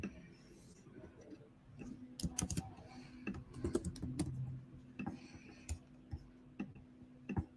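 Soft, faint keystrokes on a computer keyboard come in irregular clusters of taps, quiet and close, over a low steady hum with no talking.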